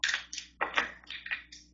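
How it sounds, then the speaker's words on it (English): A deck of oracle cards is shuffled in several quick bursts, crisp riffling and papery slapping in short clusters with brief pauses between, close and fairly quiet. "3 shuffles for the 3rd oracle"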